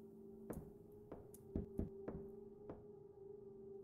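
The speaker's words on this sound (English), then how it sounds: "If I heard knocking." Knocking in the horror video game Lonely Things, about seven hollow, separate knocks in an uneven rhythm, close and distinct over a quiet hum.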